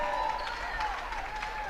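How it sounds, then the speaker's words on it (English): A big crowd cheers and applauds in a gym after a girls' regional final basketball game as a player climbs a ladder to cut down the net, a steady dense roar of clapping and voices throughout. "a big crowd, big cheer as she goes up the ladder"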